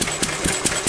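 A pre-electronic engine running on a weak fuel mixture, chugging steadily with a rough, uneven beat and sharp periodic knocks about five times a second, loud and close with no talk.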